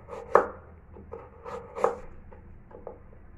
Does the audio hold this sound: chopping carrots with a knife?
yes